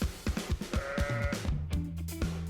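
Sheep bleat in a short run of wavering, nasal calls, one after another, with several animals overlapping and some voices lower and longer near the end, close by and with no one speaking.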